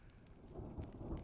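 Rain falls softly in the video game Honkai Star Rail, a faint steady patter with low rumbling underneath, distant and quiet.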